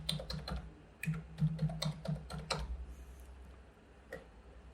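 Typing on a computer keyboard while filling in web form values: a quick run of crisp, close key clicks in uneven bursts over a low hum, then a pause and one final tap.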